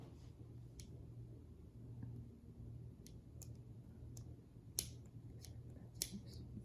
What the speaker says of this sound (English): we'll put that knot inside and just cut off that little piece right there